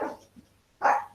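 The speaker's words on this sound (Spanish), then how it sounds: "Esos son los perros de mi casa, perdónenme." Household dogs bark at home, two short loud barks separated by a brief pause, fairly close and with no talk over them.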